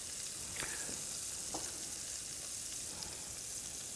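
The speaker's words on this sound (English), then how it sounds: "Let's toast some buns. A little bit of oil there." Burger buns toast in a little oil in a pan over medium heat, giving a steady, faint, even sizzle with a few soft crackles and no talking.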